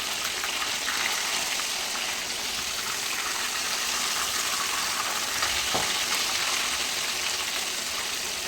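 Fish fries in a pan, two pieces at a time, for meen pollichathu, giving a steady, dense sizzle that holds evenly throughout, with one brief stir or scrape partway through and no talking.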